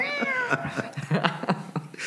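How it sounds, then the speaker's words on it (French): A cat meows repeatedly in the background, a few drawn-out, wavering cries spread over two seconds at moderate loudness, with no one talking. "Pas entendre le chat miaulant en arrière"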